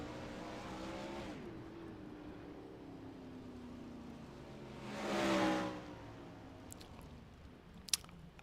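Several 410 sprint cars race at the Williams Grove track, their engines roaring at a distance. One car swells louder as it passes, and sharp clicks and knocks follow.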